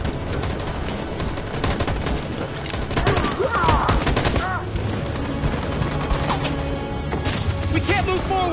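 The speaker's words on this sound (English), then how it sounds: "That machine gun is taking down everything that moves!" Sustained machine gun fire rattles through a battle scene in the video game Detroit: Become Human, with dense bursts of gunfire, crashes and shouting voices over the shooting.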